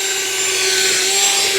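A drill turns an electrician's auger bit, the kind made for boring holes in 2x4s, into dirt to loosen soil for a mailbox post hole, giving a loud steady motor whine with grinding close by.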